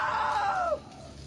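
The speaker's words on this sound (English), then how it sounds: "Now that was a great scream" A loud scream in the video game What Remains of Edith Finch, from Barbara's boyfriend Rick, rising and then sliding downward into a strained cry that cuts off after under a second, heard alone.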